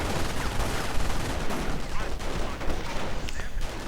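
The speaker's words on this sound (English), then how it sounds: "MG opens up, and there's no force really flanking" Machine gun fire in a strategy video game battle, dense continuous bursts of gunfire and explosions crackling throughout at close range.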